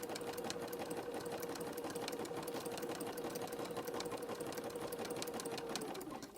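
Sewing machine stitching steadily through thick fabric-wrapped rope with a large jean needle, a continuous fast mechanical whir with rapid needle ticks, close and alone.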